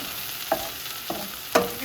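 Half a pound of chopped farmer's market mushrooms cook in a pan under a faint steady sizzle, with three distinct stirring clacks spaced about half a second apart; no talking.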